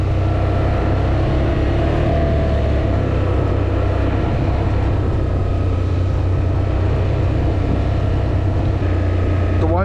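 A 2026 Can-Am 850 XT MAX ATV engine runs steadily with a loud, constant low rumble while riding a trail, droning on without pause throughout.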